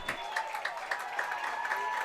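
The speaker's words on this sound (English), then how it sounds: "cheering for those senior offensive linemen there" High school football fans at a Wisconsin Rapids at Eau Claire North game cheering and clapping for senior offensive linemen, steady crowd applause at a distance under a commentator's voice.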